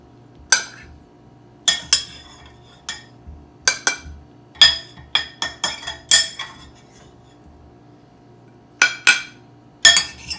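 Sharp clinks of cutlery and dishes as beer-boiled corned beef is slid back onto a serving platter, a dozen or so distinct knocks in irregular bursts, close and fairly loud with a quiet background.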